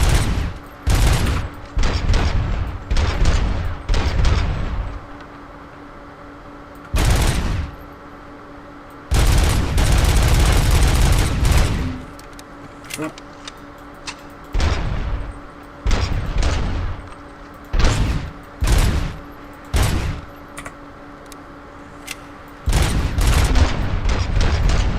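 Rapid bursts of hip-fired gunfire in the RoboCop Rogue City video game, loud and repeated in clusters of booming shots separated by short pauses, alone without talk.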